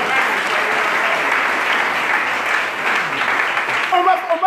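A church congregation claps together in a dense, sustained burst of applause that fills the room, loud and steady, with voices cheering and calling out over the clapping.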